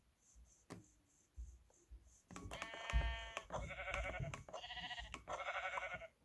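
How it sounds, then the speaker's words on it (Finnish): A sheep in the Minecraft video game gives a run of bleats, about four wavering, nasal calls in quick succession, preceded by scattered soft clicks and taps. "Lammas."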